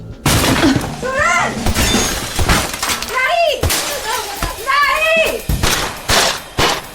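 Repeated heavy blows and cracking crashes as armoured glass is struck and begins to shatter, loud and close, mixed with shouting and excited voices in a tense audio drama scene.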